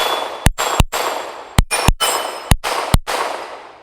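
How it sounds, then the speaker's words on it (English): Six sharp shots from a Ruger Mark IV .22 pistol firing Federal bulk ammunition, each crack followed by a ringing clang of steel targets at an outdoor range, spaced irregularly in quick pairs, loud and close. "I want to shoot it a few times"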